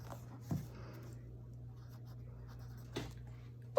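A pencil scratches quietly across paper while numbers are skip-counted in a margin, soft faint strokes over a steady low hum, with a couple of light taps.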